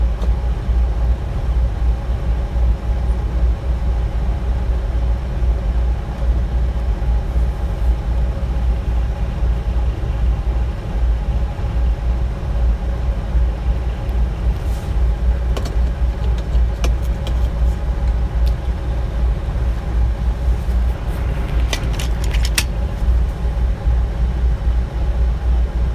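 An oil field truck idles and pulls away, a continuous low engine rumble lasting throughout, with a few brief clicks and rattles over it.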